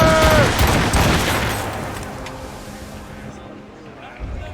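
Ship cannons firing in a naval battle in Assassin's Creed Rogue: a loud booming volley at the start, rumbling and fading away, with shouted voices near the beginning.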